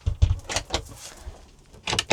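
Back door of a WildAx Solaris XL campervan swinging shut, a few close thuds and latch clunks with a rattle of fittings, ending in a firmer double knock.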